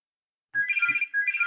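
A home telephone rings loud and close in two electronic trilling bursts separated by a short gap, with no voices over it.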